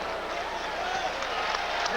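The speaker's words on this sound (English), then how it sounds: "Michael Jordan is hearing it from this capacity crowd" A capacity arena crowd cheers during an NBA basketball game with Michael Jordan on the court, a dense, steady roar of voices and applause filling the whole moment without a break.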